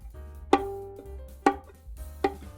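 A violin D string plucked pizzicato with the finger not pressed hard enough, giving three dull, muted plucks at spaced intervals that are faint and quickly damped.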